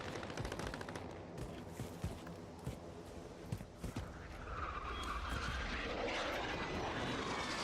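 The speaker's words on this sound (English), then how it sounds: "Recon drones flying in for another pass." Recon drones in a shooter video game make a whooshing aircraft-like roar that swells in and holds overhead, following a stretch of rapid gunfire and clattering action.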